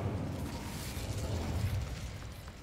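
The Incendio fire spell is cast in Hogwarts Legacy, giving a soft, steady roaring whoosh of magical flame that stays fairly faint and even throughout.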